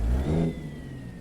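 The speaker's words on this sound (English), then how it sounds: "I'm going to blip the throttle" A Zeemods ISX Signature truck engine in American Truck Simulator gives a quick throttle blip, a short rising rev that settles back to a quieter hum with a faint whine, heard alone.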